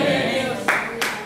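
A church congregation claps for Jesus Christ over a murmur of sound, with two sharper bursts of applause rising near the end of a short stretch.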